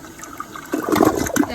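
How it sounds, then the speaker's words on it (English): A toilet flushing after its bowl was cleaned with a pumice stone: quiet at first, then a loud rushing, gurgling swirl of water that builds and keeps going close to the mic. "I'll flush it one more time."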